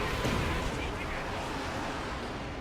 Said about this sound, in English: Katyusha barrage.